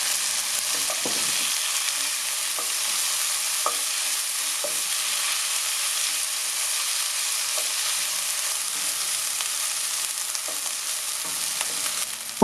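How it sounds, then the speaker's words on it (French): Corn being stir-fried in a pan for egg fried rice, a steady close sizzle with intermittent scraping and stirring clatter, no voices. "Maintenant, on verse le maïs et le cuire pendant 1 minute."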